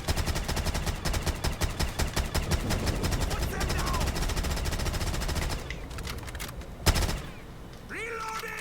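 Rapid automatic gunfire from a weapon in a custom zombies survival map, loud, dense bursts rattling for several seconds, then a heavy blast and quieter game sounds with talk mixed in.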